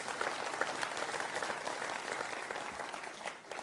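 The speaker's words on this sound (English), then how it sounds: "thank you for that small clap for that" A Conservative Party conference audience gives a short, modest round of applause, with steady clapping from a large hall crowd lasting a few seconds.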